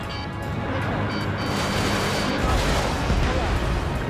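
Explosions destroying a SAM site in Ace Combat 7 boom and crash amid jet noise, a dense loud rumble with a swelling blast toward the end, while a voice speaks over it.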